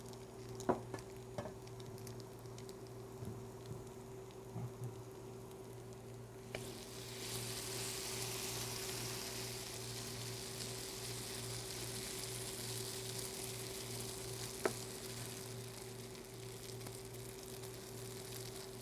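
Potato pancakes fry in hot oil, sizzling steadily, with the sound growing louder and fuller partway through and a few faint ticks and clinks from a utensil, with no talking.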